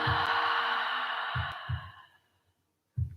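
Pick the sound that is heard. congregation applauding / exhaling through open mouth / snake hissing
exhaling through open mouth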